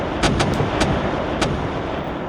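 Naval guns fire as the Russian cruisers Admiral Nakhimov and Bayan engage the Japanese cruiser Izumo, several quick heavy booms over a dense, loud rumbling roar.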